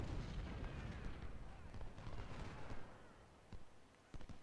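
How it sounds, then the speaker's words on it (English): Civil War cannon fire in the video game Ultimate General Civil War, deep rumbling booms and scattered sharp reports rolling in the distance, softer and sparser toward the end. "Unfortunately, we can't really flank here because the artillery will just hit us from behind."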